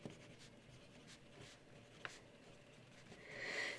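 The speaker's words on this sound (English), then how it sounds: "Let's just write the letter names in just to make it easy." A pen scratches across paper as music theory letter names are written in, producing soft, intermittent scribbling strokes that are quiet and close, with a faint squeak near the end.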